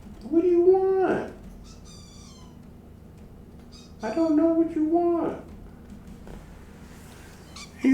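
A pet cat meows twice, loud and close, with a long drawn-out cry, then a pause and another, while someone talks in between.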